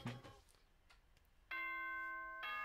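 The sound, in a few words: morning announcement chime from the video game Danganronpa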